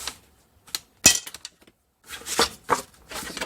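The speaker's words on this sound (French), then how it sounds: "Donc, je vais marquer les plis." A stylus scores fold lines into paper on a Scorpal scoring board for a vintage baby photo album, producing a series of sharp scraping strokes and clicks in uneven bursts, close and without talk.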